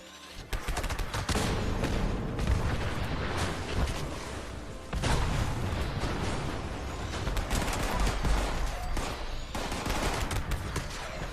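Gauss minigun in Fallout 76 firing in long, continuous, loud bursts of rapid booming shots, with one brief break before the roaring fire resumes and carries on to the end.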